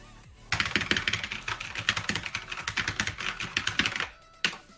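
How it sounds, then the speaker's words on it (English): Fast, close typing on a computer keyboard, a dense run of crisp key clicks lasting several seconds before stopping, followed by one last isolated tap. "ask you to write it down using your keyboard"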